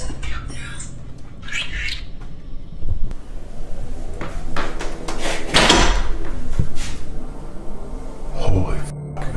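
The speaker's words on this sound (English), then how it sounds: "that fucking door just shut" A door shuts inside a reputedly haunted house, a loud thud arriving amid tense, frightened talking and movement, with a few squeaky creaks earlier.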